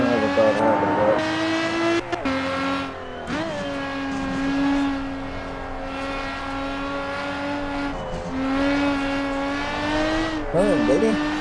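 Lotus Exige V6 Cup race car engine in a racing video game, a steady high-revving drone with clear harmonics, dipping briefly as gears shift and rising again, loud and continuous beneath occasional talk.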